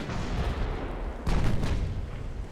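Heavy 11.5-inch naval guns fire in the warship game Ultimate Admiral Dreadnoughts, a deep booming salvo over a dense rumble of battle noise with no voices.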